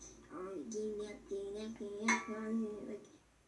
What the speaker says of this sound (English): he hit a pan at the same time again